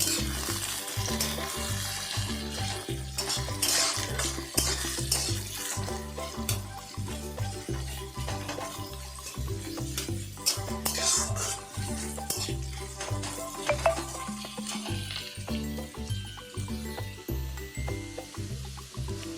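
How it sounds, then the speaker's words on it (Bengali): Chopped onion fries in a pan for a brinjal mash, giving a continuous close sizzle and crackle with rhythmic stirring scrapes throughout and no talking. "পেঁয়াজ কুচিটা দুই থেকে তিন মিনিট ভালোভাবে গোল্ডেন ব্রাউন করে ভেজে নেব"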